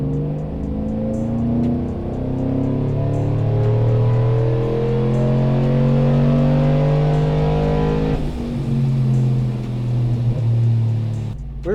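A supercharged 6.2L GMC Denali truck with a cammed engine pulls hard in third gear on a dyno, its engine note climbing steadily in a long, loud, close sweep before dipping briefly and rising again, with no talking.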